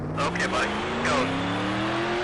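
Race car engine droning steadily with a slowly rising pitch during qualifying on the Sonoma circuit in the Nascar Heat video game, under a speaking voice for most of the clip.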